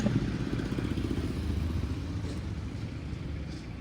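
A dirt bike engine turning over and idling, a low rough rumble with clattering texture, steady and moderately close, no talking.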